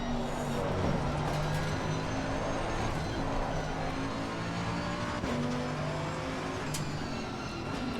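Race car engine in the GT2 video game revving hard with wheel spin through first and second gear, a steady loud drone with rising harmonics and gear changes, no talking.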